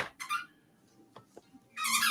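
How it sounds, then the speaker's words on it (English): A pet named Waffle squeaks, a few high, shrill chirps up close, with short quiet gaps and faint small sounds between them. "I like how Waffles just started squeaking now."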